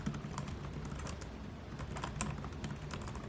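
Keys clatter on an Ignic Vibook 14X laptop keyboard, a quiet, steady run of soft clicks in an irregular typing rhythm with no talk over it.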